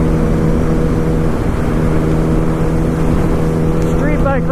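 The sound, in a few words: 2008 Yamaha R1 Raven motorcycle riding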